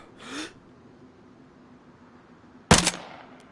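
A single sharp rifle shot in DayZ cracks out loud and close near the end, preceded by a faint breathy rustle, with a quiet hum of game ambience between.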